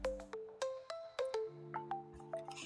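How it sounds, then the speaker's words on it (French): A smartphone chimes with a sequence of short bright electronic tones after a payment, about eight quick notes in a rising and falling pattern, clear and close with no talk. "vous allez recevoir directement la notification sur votre téléphone comme moi-même je viens de le recevoir"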